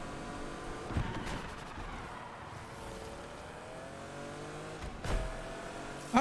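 A car in Need for Speed Unbound drones with a steady engine note that rises and falls in pitch, with two sharp bursts near the start and toward the end, moderately loud and without talk.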